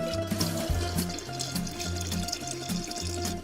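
Cold water pours into a drink mixture as the last ingredient, with a close, steady splash and gurgle over light background music.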